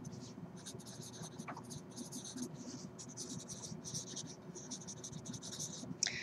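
A pen scratches out an equation on paper in quick, rhythmic bursts of strokes with short pauses, close and soft over a low steady hum.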